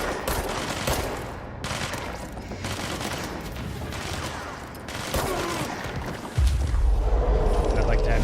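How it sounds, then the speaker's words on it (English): Sustained rapid gunfire bursts from the video game Control, loud and continuous with a heavier boom near the end, with speech underneath. "Please shoot at someone else"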